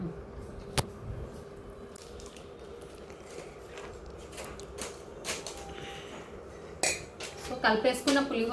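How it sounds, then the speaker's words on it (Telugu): Tamarind rice (pulihora) mixed in a pot gives repeated clinks and scrapes of a metal spoon, with soft squishy stirring and a few louder knocks toward the end. "సో ఇలా పులుసు అయితే వేసుకొని అంతా మిక్స్ చేసుకుంటున్నాను పులిహోర పులుసు"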